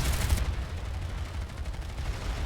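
Rocket launched amid a gunfight in PlanetSide 2: a loud burst at the start followed by continuous dense gunfire and rumbling battle noise.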